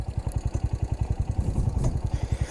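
A motorcycle engine idling in neutral while it warms up, a steady, even thumping pulse of firing strokes, close and fairly loud, with no voices.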